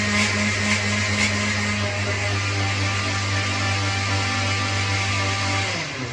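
An electric blender whirring through aloe vera for a halwa recipe, a steady close droning motor hum that holds for several seconds and then winds down at the end, with no talking.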